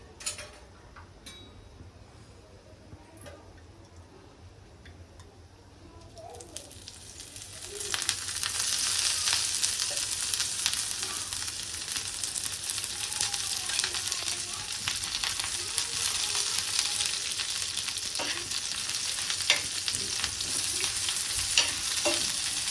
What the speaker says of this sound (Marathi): म्हणजे तेलामध्ये छानपैकी फ्राय होईल.